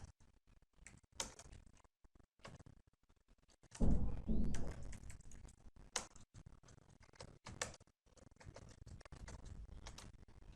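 Typing code on a computer keyboard: quiet, irregular key clicks in short bursts, with a louder clattering flurry partway through, otherwise sparse taps.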